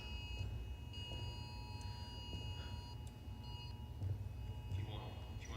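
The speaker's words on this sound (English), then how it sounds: "If you want to wait till that alarm's finished, you can." An alarm sounds at an indoor pelota (jai alai) court, with steady high electronic beeping tones in repeated pulses over a constant background hum and crowd noise.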